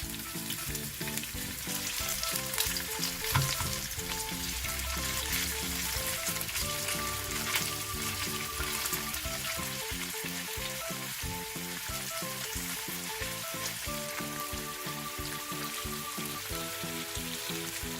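Steady crackling sizzle of salmon frying in a hot pan, continuous and close, with faint music-like tones running underneath throughout.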